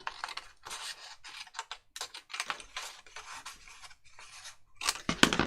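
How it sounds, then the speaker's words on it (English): Card being snipped into small pieces with scissors, a run of short crisp cutting and rasping bursts separated by brief pauses, close and fairly quiet, louder toward the end. "Let's just cut these bits off."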